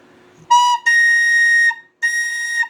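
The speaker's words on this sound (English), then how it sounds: "the second octave B flat on this B whistle is to do this" A tin whistle in B plays its second-octave B flat as three clear, bright sustained notes separated by short breaks, loud and close with no talking.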